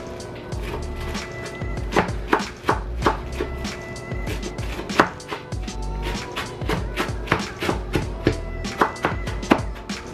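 Knife chopping ingredients on a board during meal prep, a run of close, sharp taps in uneven bursts over a steady background of sizzling or music.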